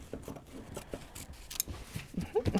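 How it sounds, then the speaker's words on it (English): Shears snipping through bag lining fabric while sewing a bow clutch, a run of soft, close cuts and fabric rustles in an uneven rhythm, with no one talking. "Trim up some of that lining fabric without cutting into your bag."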